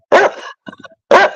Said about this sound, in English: That's a killer corgi